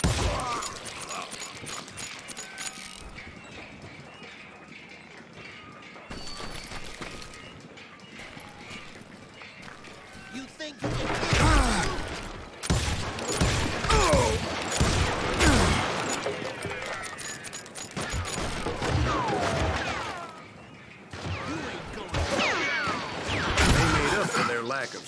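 Repeated gunfire in a Wild West setting, sporadic shots at first, then dense, loud volleys with clattering mechanical noise and voices mixed in.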